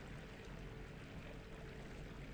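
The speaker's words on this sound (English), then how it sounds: "listen to the sounds of the water" Flowing water ambience in the survival game Enshrouded: a faint, steady wash of running water, unbroken and even, with no voices.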